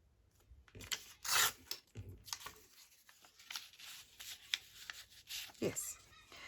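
Paper being torn by hand while crafting pockets from a single sheet, coming as a few short rasping rips spread across the moment, close and moderately loud, with a voice speaking quietly at times.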